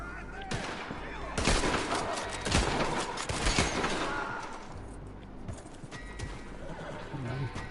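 Rapid bursts of gunfire ring out in the Red Dead video game, loud and repeated, mixed with horse whinnies and hoofbeats, with voices talking over parts of the action.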